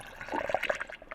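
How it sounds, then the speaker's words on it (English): Water splashes and gurgles as it is swirled while being poured into a container, a short, busy liquid churning close by at modest volume. "The correct way to fill your water is by tornadoing it"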